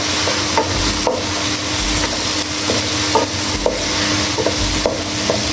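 Mixed vegetables are stirred and fried in a pan over a medium flame, a constant close sizzle broken by regular scraping and clacking strokes of a spoon.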